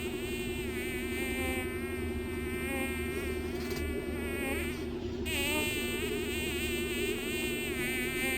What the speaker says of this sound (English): I'm pretty sure there's a bee in here.